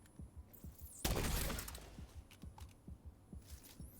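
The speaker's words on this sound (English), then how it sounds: "Now, chem launcher." A chem launcher fires in The Division 2, a single loud burst with a spray of crackling hits, then quieter rhythmic thumps and clicks of game sound continuing after it.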